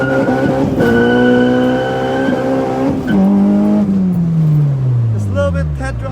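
A Honda Civic with a K20EG engine and a manual gearbox idles with a steady, rich hum, then revs and pulls away, its engine note rising and sliding down through the gears, with voices faint in the background.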